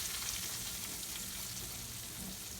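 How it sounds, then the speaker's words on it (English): Beef tips frying in hot grease, a steady, dense sizzle and crackle holding even throughout with no talking. "grease is hot, I'm going to go ahead and put this in and let it cook on the sides"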